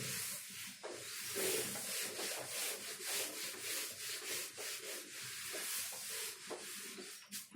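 Continuous scrubbing as a diagram is rubbed off a classroom board, a soft, dense brushing hiss with uneven strokes running for several seconds, fairly quiet and with no voice over it.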